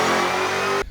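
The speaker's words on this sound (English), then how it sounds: "This was one of the first cars I can ever remember having that signature blower whine" Supercharged Terminator Cobra engine revving with a steady high blower whine over the engine roar, loud and close, cutting off abruptly near the end.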